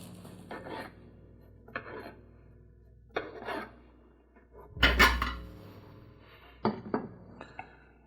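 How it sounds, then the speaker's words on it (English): Knife cuts through a Spanish omelet into small wedges on a kitchen surface, giving a series of soft scraping and tapping strokes at irregular intervals, with one louder clunk partway through. The sounds are close and fairly quiet, with no talk. "And then you slice it in little wedges."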